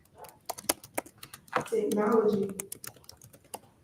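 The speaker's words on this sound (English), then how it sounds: "Don't judge my typing skills" Clicky computer keyboard typing, a run of fast irregular keystrokes close to the microphone, interrupted by a person speaking briefly in the middle.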